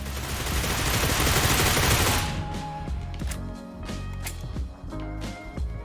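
Rapid gunfire in the PUBG shooter game, a dense burst of shots for about two seconds, followed by sparser individual shots and footsteps.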